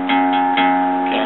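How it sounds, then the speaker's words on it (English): Guitar's open low E string with a capo on the second fret, sounded as one clear, sustained note lasting about a second. "your open E string should sound something like this"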